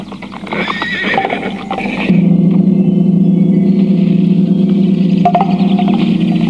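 Horses neigh and whinny close by with clip-clop of hooves, then a steady low rumble continues with further whinnies, loud and near.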